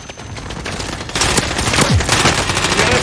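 Video game gunfire in a multiplayer shooter match, a quieter stretch of shots that jumps into a loud, dense burst of automatic fire and rapid overlapping shots, close and intense, without talk.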